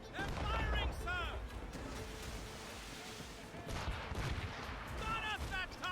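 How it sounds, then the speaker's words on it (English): Ship cannons firing during a naval battle in Assassin's Creed Rogue: booming blasts and rolling gunfire over a continuous din of battle, with shouting voices on top. "They're firing, sir!"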